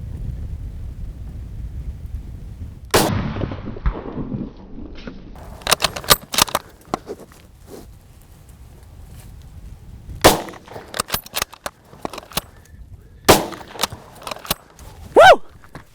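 Sharp gunshots from Razorback XT ammunition fired at wild hogs in Oklahoma crack out in a spaced sequence, one heavy report followed by clusters of quicker shots, loud and close over faint wind noise.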